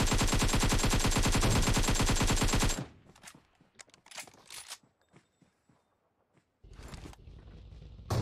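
Rapid automatic gunfire in the mobile battle-royale game PUBG Mobile, a loud continuous burst for nearly three seconds, followed by scattered quieter shots and clatter, then another sustained burst near the end.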